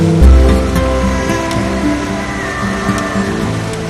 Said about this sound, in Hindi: ये हरिद्वार में कल कल बहती गंगा है